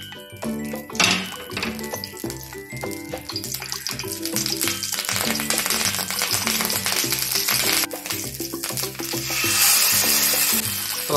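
Coconut oil goes into a hot pan for Kerala-style mackerel fry, with steady close sizzling and faint metallic clinks that run throughout, growing slightly louder toward the end.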